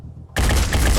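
A sudden loud burst of gunfire erupts after a short quiet lead-in during a turn of the tactical game Phoenix Point, holding a dense, booming roar to the end.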